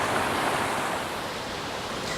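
River water rushes steadily nearby, a broad, even wash of flowing noise with no other sounds over it.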